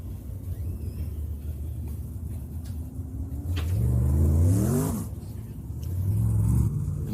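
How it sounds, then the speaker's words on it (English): Dirt late model race cars running hot laps at Knoxville Raceway, with engines rumbling at a distance and one car's revving swell rising and passing, over steady background noise. "Hot laps for the A-Main cars now coming out onto the racetrack."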